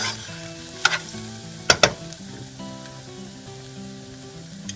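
Onions and carrot fry in a pan, sizzling steadily up close, while a spoon stirs with a few sharp clanks and scrapes against the pan.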